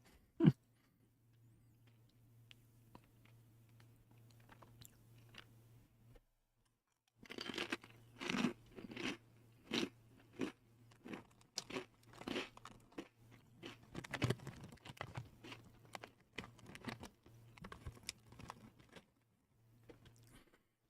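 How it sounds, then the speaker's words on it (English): Thick, dense and slightly airy chip being bitten and chewed close up, a loud snap near the start, then a quiet pause before a long run of sharp, irregular crunches, with a low steady hum underneath. "It's a dense chip, but it's slightly airy, just a little bit. So it's easy to crunch and easy to chew"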